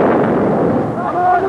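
A section of soldiers fires a volley on command during unrest in Hong Kong, heavy rifle reports thudding together under loud, rough background noise, with a voice heard near the end.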